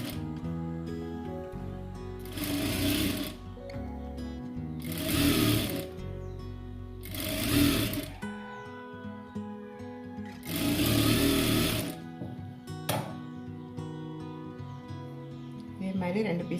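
A sewing machine stitches a burqa in four loud, whirring bursts of a few seconds each, separated by pauses. A voice talks during the breaks.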